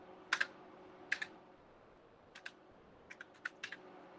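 Several separate keyboard keypresses tapping at a computer in a quiet room, in short clusters of one or two clicks with pauses between them, including a press of the Enter key.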